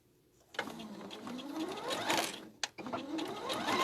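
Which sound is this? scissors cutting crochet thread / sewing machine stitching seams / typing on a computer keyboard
sewing machine stitching seams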